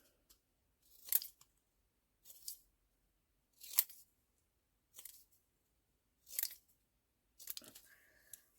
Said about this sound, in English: Just cutting round this little label.